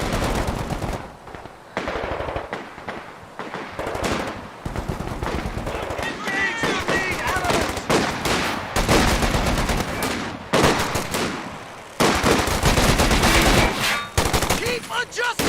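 Machine gun fire in a video game battle, dense rattling automatic bursts near and loud, continuing almost without pause and mixed with scattered shots and brief shouted voices.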